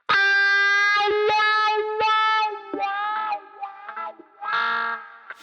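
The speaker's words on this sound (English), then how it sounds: "grab the 8th fret of the B string, whole tone bend up gradually, and then back down" An electric guitar note at the 8th fret of the B string is bent up a whole tone and back down, loud and sustained through wah and distortion, the tone sweeping as the pedal moves.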